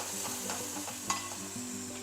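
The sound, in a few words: masala paste and whole spices frying in pan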